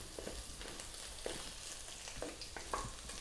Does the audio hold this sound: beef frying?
yes